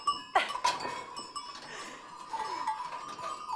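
A goat bleats and shifts about close by during hand milking on a farm, with a strong cry near the start, a second shorter call, then softer bleats and farmyard bustle; no one speaks.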